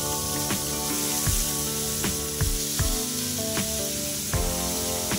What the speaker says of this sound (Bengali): কড়াইতে তেল গরম করে মাছগুলোকে আমি ভেজে নিই।